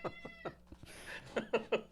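A cat gives a few sharp, close meows in quick succession, loud and alone after some quieter background sounds.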